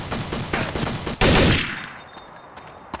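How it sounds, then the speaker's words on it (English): A mounted gun in Counter-Strike: Condition Zero fires a rapid burst of loud gunshots, dense and harsh, ending in a sharp blast that tails off into faint scattered shots. "mounted gun"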